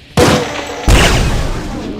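A zombieman's railgun attack in a Doom mod: two loud, crackling blasts less than a second apart, the second heavier and leaving a long, fading rumble.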